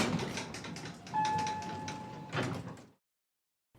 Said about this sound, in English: he pressed the button, and the doors opened immediately